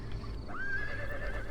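A Hun horse archer's mount in the Total War: Attila game gives one clear rising whinny over a low rumbling battle din, with faint hoof noise and no talk.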